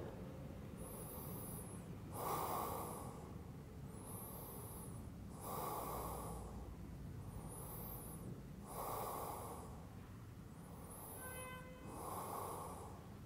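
Slow, steady breathing during a resting yoga stretch, with soft breath sounds recurring roughly every two seconds, close and quiet over a faint background hiss, with no talking.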